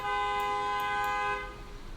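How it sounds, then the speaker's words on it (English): A car horn honks steadily outside for over a second, fairly loud and tonal, then trails off into room noise. "the guy honking outside thinks so"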